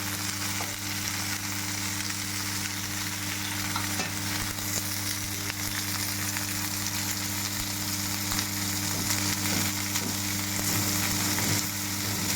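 Brinjal curry sizzles and crackles in a pan on low heat, a steady frying hiss under faint scraping stirs and a constant low hum.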